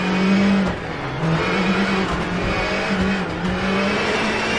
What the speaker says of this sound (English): You can see the car is sliding way too much.